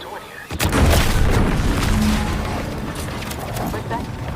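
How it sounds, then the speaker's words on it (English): A sudden loud boom in the video game The Outer Worlds 2 opens the clip, followed by a sustained rumbling roar of debris and gunfire-like crackle that slowly fades under ambient noise. "What's that? An explosion?"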